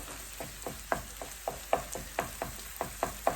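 Prawn fried rice fries in oil in a pan, a close sizzling bed broken by about a dozen rhythmic scraping stirs of a utensil, with no talking.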